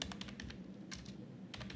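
Rapid clattering of keystrokes on a computer keyboard while code is written, a steady close run of clicks with brief bursts of faster typing, heard alone.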